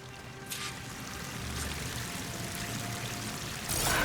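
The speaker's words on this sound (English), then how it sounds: "The waterfall must be coming from somewhere." A waterfall in the video game Horizon Forbidden West gives a steady broad rushing roar of falling water that runs continuously and swells louder near the end, with no voices.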